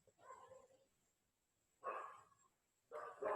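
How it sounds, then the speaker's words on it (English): Dogs barking outside in bursts: a muffled yap, a pause, then louder barks and a further run of rapid barking, heard at moderate distance against a quiet room. "once again the dogs are at it"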